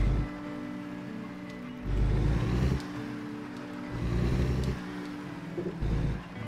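Heavy truck engine in a driving video game pulling away in first gear, a steady mid-low rumble that swells in several surges as the throttle opens, with a faint voice in the background.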